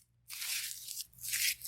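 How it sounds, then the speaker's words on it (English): Tissue paper wadded up by hand for a watercolor texture, a soft close crinkling and crunching in two bursts with a brief pause between, quiet and alone. "I'm just going to wad up some tissue paper"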